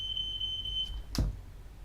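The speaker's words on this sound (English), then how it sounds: "someone has set the fire alarm off" A trigger-happy kitchen fire alarm beeps as a steady high electronic tone, followed by a brief thump, heard at a moderate distance with no talking.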